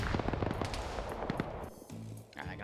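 Grenade launcher fire erupts in a military video game: a rapid burst of sharp, loud, cracking reports, followed by scattered thuds and a lower rumbling tail.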